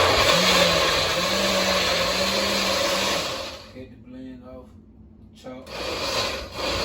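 A countertop blender whirs loudly, blending puppy mush for a three-week-old litter, with its motor pitch wavering steadily before cutting off after about three seconds, leaving a quieter room with brief voices.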